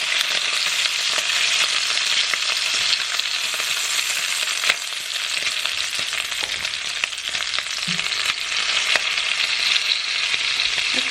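Bacon fries in a pan, a loud, dense, continuous sizzle with crackling pops scattered throughout, steady and close for several seconds with no talking.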